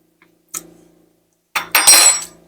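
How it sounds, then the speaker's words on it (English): Spoon clinking against a bowl while tasting key lime frosting, a light tap and then a brighter scraping clatter of metal on the dish, close and brief, with no voices. "Let's get us a spoon and taste it, y'all."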